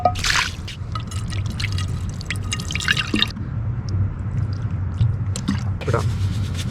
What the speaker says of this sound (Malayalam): നമുക്ക് മീനിനെ നല്ല വൃത്തിയായിട്ടൊന്ന് കഴുകാം കേട്ടോ